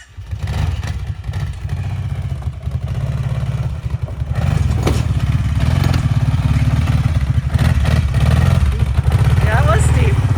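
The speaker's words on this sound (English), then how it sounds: "Brought a four-wheeler with us. Oof, you can see him flying by the camera." A four-wheeler ATV on a steep private road by an off-grid woodland log cabin speeds past, its engine a steady loud drone that swells as it nears, with voices talking over it.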